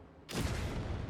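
Gunpowder cannon in the building game Trailmakers letting off one sudden, loud boom after a brief quiet moment, the heavy report rumbling on to the end with no speech.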